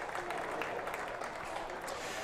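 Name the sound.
crowd applauding at a Twenty20 cricket match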